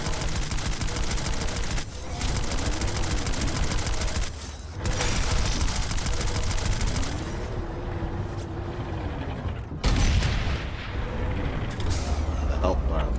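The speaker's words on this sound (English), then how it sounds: "We've been getting a nice ambient experience of me just shooting everything." Continuous rapid gunfire from a turret in the shooter game Planetside 2, dense bursts layered with mechanical whirring and a few brief pauses, while someone talks over it.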